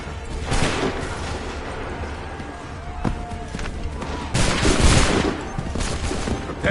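Musket volley fire in Assassin's Creed III rings out as dense, overlapping gunshots and booms. The loud crackle is sustained, surges midway and is mixed with battlefield noise.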